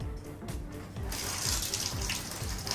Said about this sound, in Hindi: पानी टपकता है